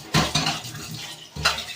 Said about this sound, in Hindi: तो बर्तन धो लेते हैं फटाफट से